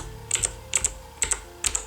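Keys on a Logitech G710 mechanical keyboard with Cherry MX Brown switches are pressed in four quick pairs of crisp clicks, close and distinct over a faint background hum, no talk.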